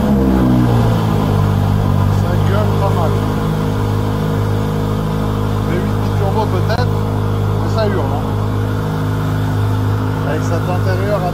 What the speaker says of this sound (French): Démarrage de la pista à froid